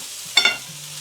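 Food is stirred in a pan with two quick scraping clinks of a utensil over a low background sizzle, close and brief.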